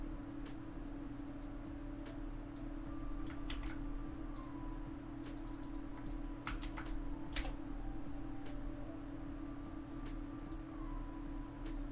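Rapid, uneven keystrokes on a computer keyboard, entering a number, clicking close and clear in short bursts with brief pauses, with no talking.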